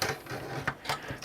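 An IBM 8 GB IDE hard drive from 1997 slides into a metal drive bay, making a series of short scraping clicks and light mechanical rattles, fairly close and quiet.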